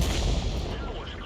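A tank gun firing in World of Tanks: one deep, heavy boom with a broad rumbling tail fills the whole short span and stays loud throughout.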